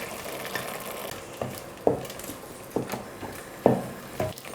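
Masala for tomato rice being stirred and fried in a pan, with soft scraping and irregular clanking spoon strokes over a low steady sizzle.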